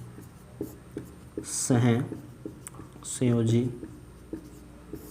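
Chalk or marker tapping and scratching on a board in a chemistry class, soft scattered strokes beneath a man lecturing in Hindi.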